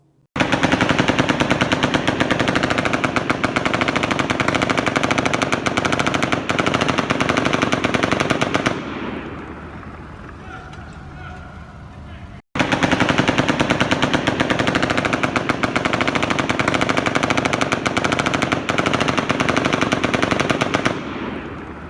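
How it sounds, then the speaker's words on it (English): Automatic gunfire from the Las Vegas shooting, recorded by a guest at the Delano hotel: long, dense, loud bursts with a fluctuating rate of fire, a quieter lull with distant echoes, then another sustained burst. "There's a hotel guest at the Delano posted this particular video where you could hear the rate of fire fluctuating"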